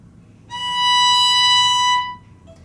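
A single clear violin note on the E string, played by the fourth finger, swells in and holds steady for about a second and a half before stopping. It is bright, clean and alone in a quiet room.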